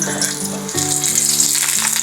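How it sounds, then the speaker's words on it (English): Garlic frying in oil in a metal pan over medium heat for a Filipino breakfast, a steady bright sizzle that stays close and continuous, with faint low tones underneath. "What we want is kind of like infuse the oil with the garlic."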